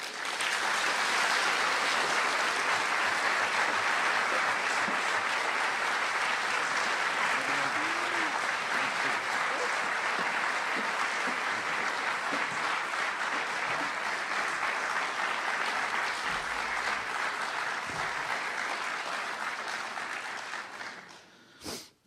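Audience applause welcoming Christopher Hitchens to a talk on the Axis of Evil, a full hall clapping loudly and steadily for about twenty seconds before it tapers off abruptly at the end.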